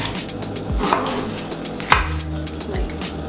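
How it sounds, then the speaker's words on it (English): A kitchen knife slicing food into strips on a board for a vegan dish: a few crisp, separate cuts land close by at an uneven pace over a low, steady background. "The easiest way for me to do this is just slice it into strips."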